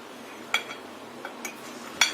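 A knife slicing through set jelly in a kitchen, with a few sharp clinks and taps of the blade against a dish or tray spaced over a couple of seconds, otherwise quiet.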